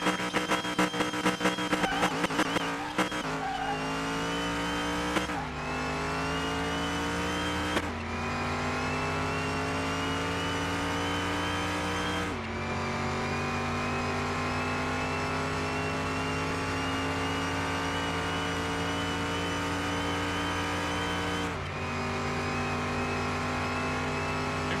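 A '57 Chevy in a racing video game pulls hard toward top speed on a speed track, its engine note climbing steadily through long gear-held stretches with brief dips at each shift, loud and continuous with no talk.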